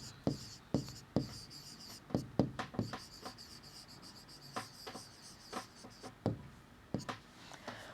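Chalk or marker strokes on a board in a maths lesson, a run of quick scratchy taps and short rubbing strokes in uneven bursts, close and fairly quiet.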